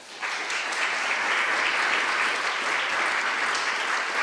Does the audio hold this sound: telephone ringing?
no